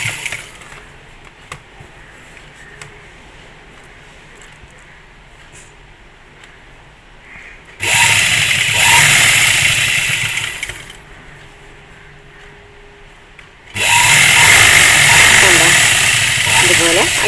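A sewing machine stitches a jubba strip in two loud, steady whirring runs of a few seconds each, separated by quieter stretches of low background hum.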